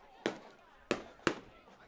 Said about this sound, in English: Have a little fireworks show going off.